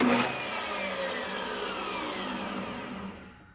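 A table saw and shop vacuum switched on together from a Pecron battery backup inverter, a loud whirring motor roar that starts abruptly, holds steady for about three seconds, then winds down and fades as the overloaded inverter cuts out.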